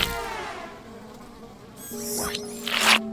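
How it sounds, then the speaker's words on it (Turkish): Flies buzz around a garbage truck in a cartoon-like setting, a steady insect drone with louder, closer buzzing swells near the end, alone with no talk. "Horace, sinekler neden çöpü sever?"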